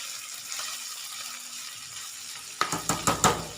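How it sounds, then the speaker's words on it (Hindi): Chicken fries with sauces in a pan as a faint, steady sizzle, then a burst of five or six quick, close scraping stirs of the utensil against the pan near the end. "सॉसेस के साथ भी 1 मिनट के लिए चिकन को फ्राई कर लेंगे"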